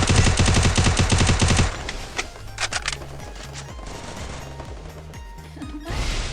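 Rapid automatic gunfire from the battle royale game Garena Free Fire, a dense loud burst lasting under two seconds, then scattered single shots and thumps over lower game sounds, with firing resuming at the end.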